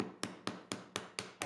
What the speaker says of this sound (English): chiseling out the pin boards is definitely a little more challenging because you have to account for those angles as you chisel downward